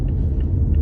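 Inside a car on the road, a low, steady rumble of engine and tyres fills the cabin with no voices.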